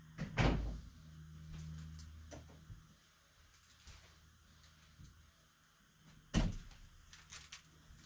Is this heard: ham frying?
no